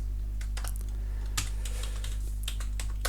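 Fingers typing code on a computer keyboard, a quick uneven run of light clicking keystrokes close by over a steady low electrical hum, with no one talking.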